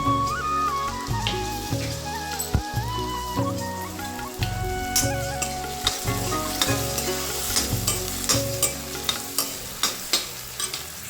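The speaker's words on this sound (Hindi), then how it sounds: "जवे पे मसाला बन रहा है, यहाँ बॉईल करके रख दिया है और इसके मसाले बन रहे हैं।" Masala for jave vermicelli sizzling in hot oil in a pan, with spoon stirring and scraping in a steady rhythm, close and loud, and no talking.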